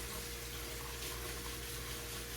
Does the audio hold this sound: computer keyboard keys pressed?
no